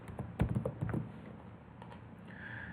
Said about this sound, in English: I'm going to just type in the credit card that we used